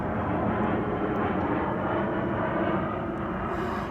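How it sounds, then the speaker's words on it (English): A jet aircraft roars overhead as a steady, broad rumble that fills the whole clip, loud and constant with no talk over it. "Excuse me while I have a jet fly over."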